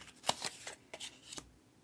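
Scissors snip through paper while a Christmas gift card holder is made, a quick run of several short, crisp cuts close by with brief pauses between them.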